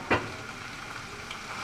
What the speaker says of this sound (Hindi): इसे हम फ्राई करेंगे तो जब तक लहसुन अदरक की खुशबू आ जाए।